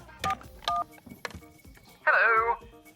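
A phone is dialed to call Darren: a few short keypad beeps, then a louder, longer electronic tone, all close and clear with faint voices in the background.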